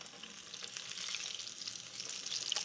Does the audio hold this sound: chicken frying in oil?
yes